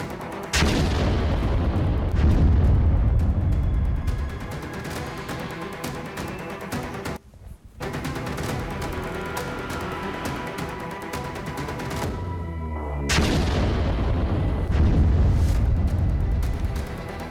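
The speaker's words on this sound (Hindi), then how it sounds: "तुरंत ब्लास्ट होता है" A bomb blast set off as Russian general Igor Kirillov stepped out of his apartment building, heard as a loud, sustained roar of booming rumble that cuts out briefly midway and then swells back just as loud.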